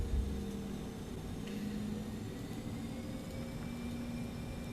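A BAe 146 airliner taxiing in a flight simulator, a steady droning engine hum with a low tonal whine that holds level throughout, with no talking.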